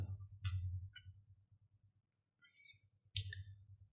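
Soft mouse clicks while selecting a profile photo on Instagram, a few light, close taps spaced across a quiet moment with faint breathy noise between them.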